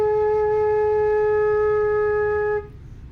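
A single low A-flat flute note held steadily for about two and a half seconds, clear and close, then cut off.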